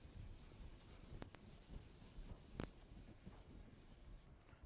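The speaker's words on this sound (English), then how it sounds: "let me draw a schematic diagram" A pen scratches and rubs across paper while drawing a schematic diagram, a faint, close, uneven scraping with a few short sharper strokes.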